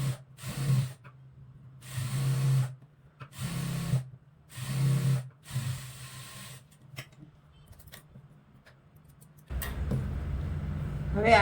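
A sewing machine runs an edge stitch on a salwar in four or five short, even bursts of whirring separated by pauses, near and clear, followed by a brief rustle of handled fabric.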